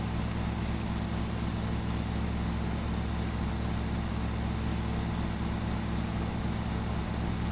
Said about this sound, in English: I dropped my controller and my mower started accelerating